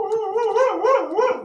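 Nanook, a husky mix dog, lets out a close, loud howl that wavers up and down in pitch across several undulating swoops, with no talking.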